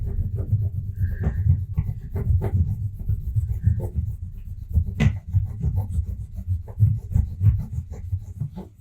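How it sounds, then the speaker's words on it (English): Steady scratchy rubbing of transfer material onto a Cricut Joy craft project, a continuous close low rasp with faint squeaks over nearly nine seconds. "Do a little bit of rubbing on the front side too, just to make sure."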